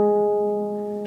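A single G string on a lever harp rings on with a steady, sustained harmonic tone that slowly decays, heard alone and close.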